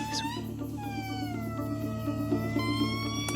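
An aye-aye calls from fog-shrouded Madagascar jungle, a long, wavering tonal cry with gliding pitch that rises and falls over a steady background drone of insects and forest noise.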